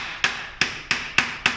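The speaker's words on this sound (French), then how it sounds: "Un petit coup de marteau pour" A hammer taps to tighten a wood-shaping tool, giving five sharp, evenly spaced metallic strikes, each ringing briefly and fading. The strikes are close and clear, with no voices.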